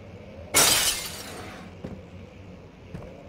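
An object is smashed in the horror game Amnesia: The Dark Descent, with one loud, sharp shattering crash that rings out, then two faint clinks of settling debris.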